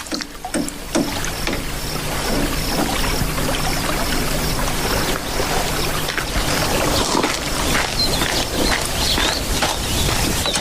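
Splashing and sloshing of someone wading through a river, a continuous watery churn with irregular surges and splashes throughout, close and fairly loud, no voices.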